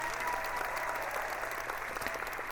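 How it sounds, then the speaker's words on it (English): A short burst of dense soundboard applause effect, steady and evenly loud from start to end. "the only sounds I had were applause"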